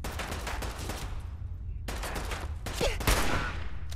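Bursts of combat rifle fire in a Fallout 4 firefight, loud sharp volleys repeating in quick clusters with brief gaps between them, alone without talk.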